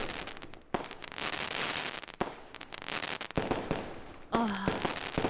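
Fourth of July fireworks burst in a rapid string of sharp cracks and booms, with crackling trails and a brief whistling shell near the end, loud and close, with faint voices underneath.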